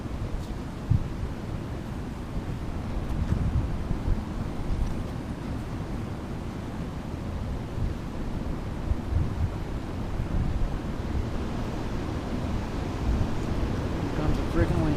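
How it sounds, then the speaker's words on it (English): Steady gusting wind roars across an open riverside kayak camp, a broad continuous rush buffeting the microphone for the whole stretch, loud and unbroken, with no voices. "Here comes the freaking wind again."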